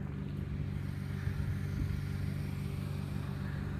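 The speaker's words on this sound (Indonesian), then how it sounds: "Seperti ini suasana terminal bus yang ada di Mersing" Quiet ambience at a bus terminal in Mersing, Malaysia, carries a low, steady rumble of idling and passing vehicle engines that hums evenly throughout without any voices.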